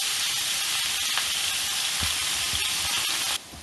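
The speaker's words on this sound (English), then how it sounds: "we'll just stir fry that up" Broccoli stir-frying in a hot cast iron pan for a beef and broccoli dish: a loud, constant sizzle and hiss with occasional scraping stirs, close up, dropping abruptly near the end.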